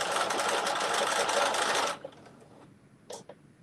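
A sewing machine stitches a zipper pouch in a steady, loud, rapid mechanical whir for about two seconds, then stops abruptly, followed by a couple of sharp clicks close by.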